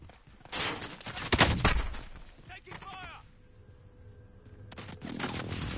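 Bursts of gunfire and heavy explosive booms in Warzone crackle at varying distances, with loud cracks early on and a quieter gap before firing resumes, while players talk over it.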